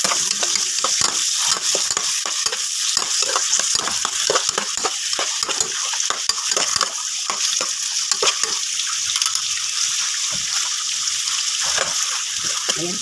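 Tomatoes sizzle and fry in a pan while being stirred, a steady close sizzling hiss broken by frequent scraping, clattering stir strokes throughout.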